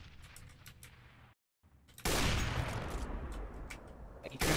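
Sustained gunfire in a multiplayer shooter video game: a short patch of scattered shots, a brief silence, then a loud continuous barrage of rapid fire that runs to the end.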